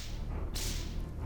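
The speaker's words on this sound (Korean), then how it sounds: "어떤 사람이 갈 길이 바쁜데 왜 이리 난리냐며 소현세자 앞에서 채찍을 휘두르면서 길을 재촉하고 있는 겁니다" A single sharp whip crack snaps out loud and close, cutting through a low, rumbling background hum.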